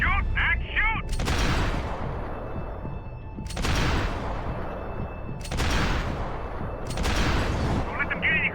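Max Payne 3 firefight with heavy, sustained gunfire in long loud bursts separated by brief pauses, booming shots under shouting voices.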